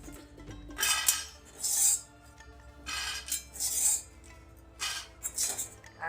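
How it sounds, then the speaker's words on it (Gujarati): Roasted makhana (fox nuts) for gunder pak are scraped and poured into a dish, producing repeated bursts of rattling, rasping scrapes against metal with short pauses between them. "તો જો કલર થોડોક કરી ગયો છે તો એને આપણે ડીશમાં કાઢી લઈએ"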